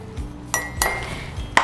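A tablespoon of white sugar goes into a mug with melted butter, heard as a few bright metallic clinks of a spoon against the mug, close and fairly loud, with the sharpest tap at the end.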